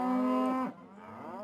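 A single long, loud moo from cattle on a working ranch, a steady low call for most of a second that drops off into quieter lowing and ambient farm noise.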